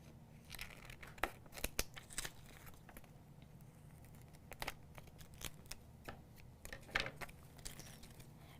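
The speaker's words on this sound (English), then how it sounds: "I'm just going to snip them apart" Scissors snipping apart snowflake shapes on a carrier sheet for a holiday burlap sign, a scattered series of quick close snips with paper rustling and crinkling between them, fairly quiet, no talking.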